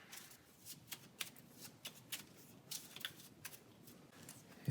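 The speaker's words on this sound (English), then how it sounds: "we will put this back in there and shuffle" A deck of cards for the Pathfinder Adventure Card Game is shuffled by hand, a quiet series of quick riffling snaps and soft slides repeating at an uneven pace throughout.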